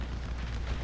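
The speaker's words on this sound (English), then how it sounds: "Wow, massive volleys opening up from my front line" Massed musket volleys roar from the front line in an American Civil War mod battle game set at Franklin, a dense continuous rumble of overlapping gunfire with no clear pauses.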